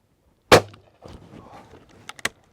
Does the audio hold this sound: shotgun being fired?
yes